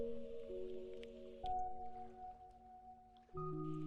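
In the video game Eidolon, footsteps wade through shallow water, giving soft, close sloshing and squishing splashes over a sustained tonal music bed.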